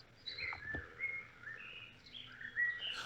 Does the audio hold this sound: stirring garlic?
no